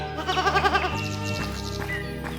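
A wounded female goat bleats close by in a quavering, wavering cry, followed by a few shorter bleats.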